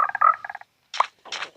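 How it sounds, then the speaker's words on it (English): Croaks from frogs in a blocky video game, a quick run of rhythmic ribbits followed by two short separate calls, close and clear with no talk. "I already got 8 frogs bouncing around in that house"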